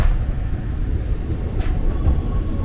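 A KRL commuter train pulls into Klender Baru station in a steady, heavy rumble with low rolling rail noise and faint squeals, heard from on board, with no talking.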